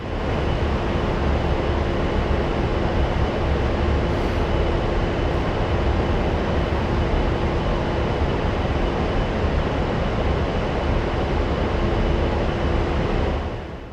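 An A-10C jet in the DCS flight simulator cruising straight and level, its engine producing a loud, constant broadband roar with a steady whine, unbroken for the whole stretch and with no talk.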